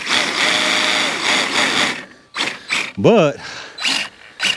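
An Arrma RC car fitted with snow tracks and skis whirs in bursts as the tracks skip over their drive lugs, a mechanical clattering grind that starts and stops, with a short spoken word partway through.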